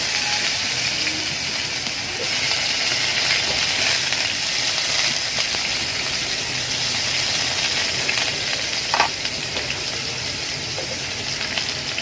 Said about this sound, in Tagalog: Unahin ko po muna mga kamamshis yung pagluto ko po ng hotdog.